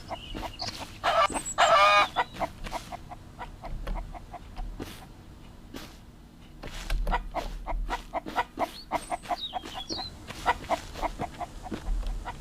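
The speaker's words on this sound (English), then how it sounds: "Of course, the chicken's chasing him" Chickens in the survival video game Mist Survival cluck and squawk in quick bursts, with a loud flurry of agitated cackling early on and steady pecking-like clucks continuing close by throughout.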